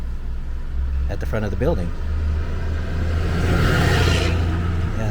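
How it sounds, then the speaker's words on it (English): Steady road traffic rumbles past the front of an old Greek-temple-fronted building, a continuous car and engine drone under a person talking. "a lot of traffic here"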